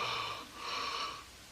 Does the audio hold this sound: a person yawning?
yes